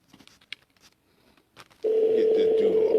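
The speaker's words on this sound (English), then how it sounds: "Answer this phone." Telephone call tone on a phone, a steady loud electronic tone that starts abruptly partway through and holds to the end, following a few faint, scattered noises.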